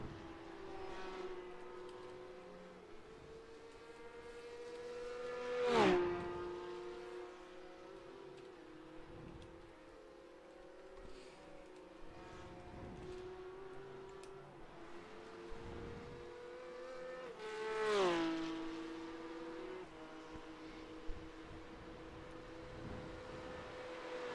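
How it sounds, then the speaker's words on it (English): Porsche Cup race cars at Watkins Glen, in a racing video game, roar past with a rising then falling engine note, two distinct close passes about twelve seconds apart over a steady background engine drone. "This is just a very beautiful sound here, with the Porsche Cups roaring past."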